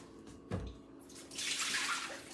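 Hot water poured off soaked dates starts with a soft bump, then becomes a quiet, steady splashing rush for the last second or so.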